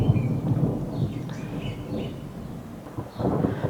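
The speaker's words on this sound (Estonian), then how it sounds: "Aga ümberringi igal pool müristas." Low thunder rumbling on all sides during a garden visit, deep rolling swells that rise and fade over a few seconds with no one speaking.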